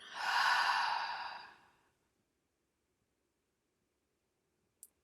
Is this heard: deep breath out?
yes